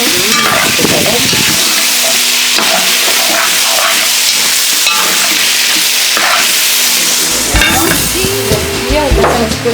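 Wild boar curry with tomato and butter sizzles and fries in a pot, a loud continuous hiss with intermittent stirring scrapes and bubbling throughout.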